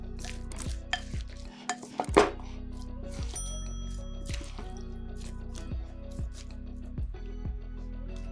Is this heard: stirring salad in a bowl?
yes